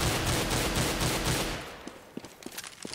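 Rapid repeated auto sniper rifle shots in Counter-Strike on de_dust2, a loud dense volley for about a second and a half, then quieter scattered clicks and pops.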